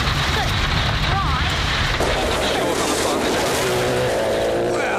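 A rally car drives a gravel stage at Rally Nelson in the 2008 New Zealand Rally Championship. The engine roars and stones hiss and spray underneath, while a commentator talks over it.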